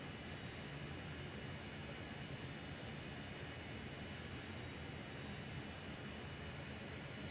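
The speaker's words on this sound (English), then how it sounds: "So let's give it some vertical thrusters." The vertical thrusters of a Dornier Do 31 VTOL jet run at full thrust in Microsoft Flight Simulator 2020, a steady, broad, unbroken jet roar holding at constant level throughout.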